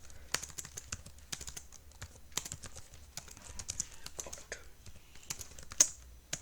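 Scattered keystrokes on a computer keyboard, close but fairly quiet, tapped in irregular short runs over a faint background hum.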